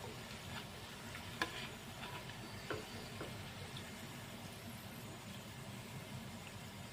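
Ginger fries in oil in a pan with a low, steady sizzle, broken by a few sharp clicks and taps of a utensil, close and without talk.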